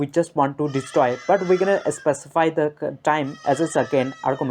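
Goats bleating repeatedly in the background under steady close talk from a man, the wavering cries mixing with his voice throughout.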